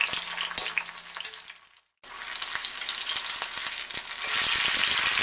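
Patty pan squash pieces fry in a hot pan with a dense, crackling sizzle, broken by a brief silence before the hiss returns even louder and steadier, with scattered pops throughout.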